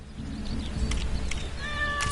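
A cat meowing in the Lego Marvel Super Heroes 2 video game, short mews rising out of a busy game background of music and effects, with no speech.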